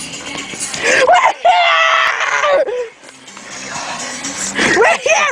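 Excited fans scream and yell at a 2019 concert, loud high-pitched shrieks rising and falling in waves that fill the space, with a short lull near the middle before the cheering swells again.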